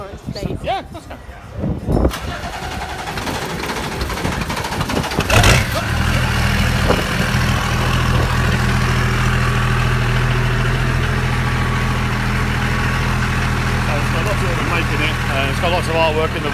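A BMW straight-six turbo diesel engine cranks and fires, then settles into a steady, rumbling idle that continues close by at a car boot sale at Kings Cross, London, with people talking over it.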